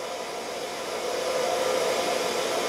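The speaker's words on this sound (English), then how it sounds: "And all I'm doing is just trying to grind it on the edge." A titanium wedding ring's edge being ground on a grinder, a continuous steady whirring drone that swells slightly louder partway through, with no talking.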